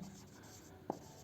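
Faint scratching of a pen on paper while a maths problem is worked out in a quiet room, with one soft tap midway.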